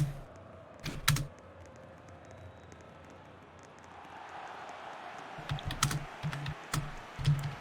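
Computer keyboard typing during a livestream of a video football game, scattered bursts of keystrokes at a moderate distance with a steady background hum and some faint voices.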